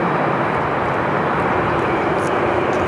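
A QantasLink turboprop on short final for runway 34 right at Sydney Airport, arriving from Tamworth, gives a loud, steady broadband engine roar with no talk over it.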